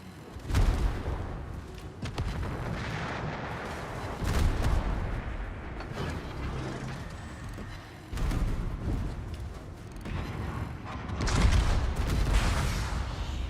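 Naval guns boom repeatedly from a warship in World of Warships, heavy blasts recurring across the stretch amid continuous rumbling battle noise, with a cluster of louder shots near the end.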